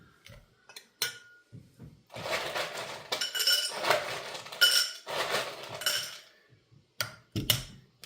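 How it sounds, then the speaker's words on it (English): Ice cubes clink and rattle into a highball glass for a cocktail, a cluster of sharp glassy knocks followed by longer tumbling clatter, then a few scattered taps, close and alone. "Then we have a highball glass, which I throw a decent amount of ice in."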